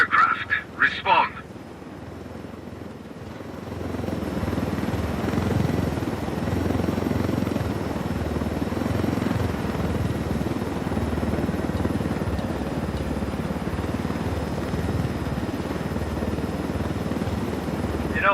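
A helicopter in the video game Ghost Recon Wildlands drones steadily and loudly with a broad rotor and engine roar, after a few brief sharp sounds at the start.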